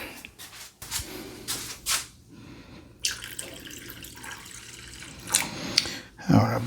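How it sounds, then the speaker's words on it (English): Water running from a tap into the small bowl of an ultrasonic cleaner during a WEN 56200i inverter generator carburetor repair, dripping and splashing in uneven bursts, close and fairly loud with no talking. "Let me put a little bit additional water in there."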